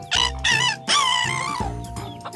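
A rooster-style crow in a few short bursts and then one long call, loud and near. It may be a voice imitating a rooster, with no talk over it.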